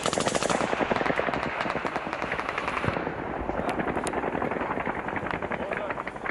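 Rapid bursts of automatic gunfire and heavy weapon blasts in war combat footage in Ukraine, loud and continuous, with a rocket-propelled grenade being fired amid the shooting.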